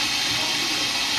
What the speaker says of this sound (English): Splashing my face with freezing cold water, and even the tap is hot.